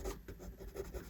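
Pencil strokes drawing lips on paper, a short series of soft, rhythmic scratching rubs, close and quiet, with no voices.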